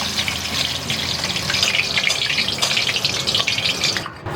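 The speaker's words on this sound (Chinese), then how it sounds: "然后再把这个青红椒给它放进去，等一下也给它炸一下" Green and red peppers drop into oil at eighty percent heat for a quick deep-fry, giving a loud, steady sizzle and bubbling that fills the space without pause.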